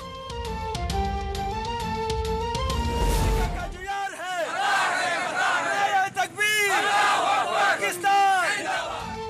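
A protest rally crowd in Pakistan chants against America in loud, rhythmic shouted slogans, following a few seconds of music at the start.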